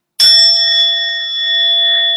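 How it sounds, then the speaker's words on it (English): A single bright chime struck once, loud and close, ringing out with a long steady sustain and no talk. "you'll hear that tone, that beautiful chime"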